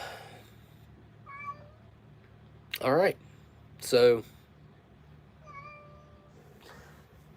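A pet cat meows a few times in a quiet room, brief rising calls and two louder, harsher yowls near the middle, with a person speaking briefly at the start.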